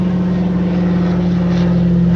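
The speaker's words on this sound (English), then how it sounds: "let's wait for the plane to pass" An airplane passes overhead with a loud, steady propeller-like engine drone and a strong low hum that holds without a break.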